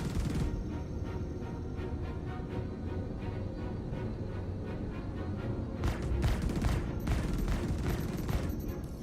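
Spaceship weapons in the Star Citizen space combat game fire in a dense, continuous stream of rapid bursts, loud and booming, swelling into heavier volleys near the end.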